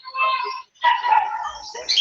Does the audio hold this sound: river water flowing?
no